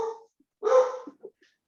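Daisy the dog lets out a couple of short barks close by, one sharp yelp followed by softer whimpering yips, with brief silences in between.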